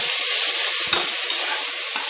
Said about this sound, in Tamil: வெங்காயம், தக்காளி எல்லாமே போட்டு நல்லா வதக்குறோம்